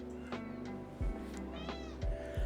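A pet cat meows several times in short, close calls, with a steady low background hum underneath.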